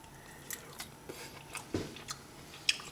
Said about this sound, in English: Let's give it a little taste here.